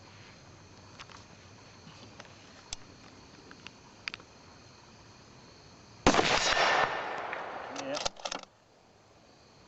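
A Ruger bolt-action rifle fires one loud, sharp gunshot that rings out and decays over about two seconds, followed by brief metallic clicks; a short spoken word comes earlier over faint outdoor background.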